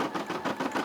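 A Brother SE600 embroidery machine stitches a turkey design, a quick close mechanical whirring with fast regular needle pulses, heard only briefly.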